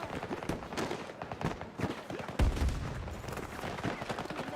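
Rapid gunfire rattles in Battlefield 2042 as bursts of shots crack in quick, uneven succession, some near and some farther off, with a heavier thud in the middle.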